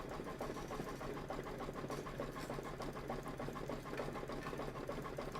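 A sewing machine stitching steadily for a Kimberbell Cup of Cheer sew-along project, with a continuous rapid mechanical chatter close by and no voices.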